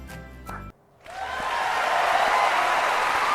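Applause breaks out after a brief pause, a dense, steady clapping that swells and holds loud to the end, following a short burst of music or a voice at the start.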